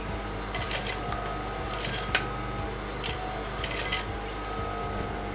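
A sewing machine runs steadily as it top stitches the edge of a Yoruba fila cap with lining and matching thread, giving a continuous close mechanical whir with rapid ticking needle strokes.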